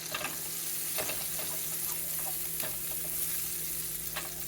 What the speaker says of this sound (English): I'm going to put a little bit of butter in here to sear my roast with